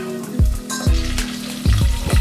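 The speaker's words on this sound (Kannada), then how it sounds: "ಚಂದಾಗಿ ಬತ್ ಬತ್ ಮಾಡ್ಕೊಂಡು ಒಗ್ಗರಣೆ ತಕ್ಕೋಬೇಕು ಒಗ್ಗರಣೆಗೆ ಅಷ್ಟನ ಪುಡಿ ಹಿಂಗ ಹಾಕಬೇಕು" Oil sizzles loudly as spices are tempered for North Karnataka katambali, with several sharp bursts of crackling and spattering as seasonings hit the hot pan.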